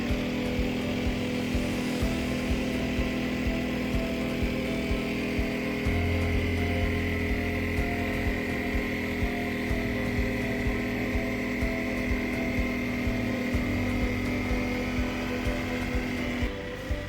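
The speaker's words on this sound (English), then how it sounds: "The smart testing equipment starts working, precisely checking the generator's circuit output and displacement" A portable inverter generator runs on a factory test station while smart testing equipment checks its output, giving a steady, loud mechanical hum with a sustained tonal whine that stays level throughout and stops abruptly at the end.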